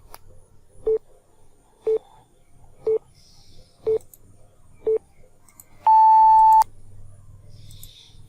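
A quiz countdown timer gives five evenly spaced beeps about a second apart, then one longer, sustained tone. The beeps are loud and clear over a quiet background, with no talking.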